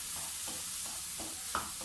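Garlic dry-sautéing in a pan with no oil or salt, a soft, faint sizzle broken by a few light stirring scrapes, heard up close and quiet.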